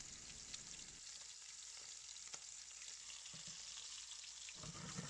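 Pieces of belt fish pan-fry in a steel wok over medium heat, giving a faint, continuous crackling sizzle with small pops and a brief scrape or two, with no voices.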